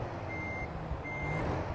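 A truck reversing alarm in American Truck Simulator sounds two evenly spaced high electronic beeps over a steady low diesel engine drone, moderately loud with no talk.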